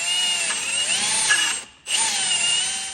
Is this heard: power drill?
yes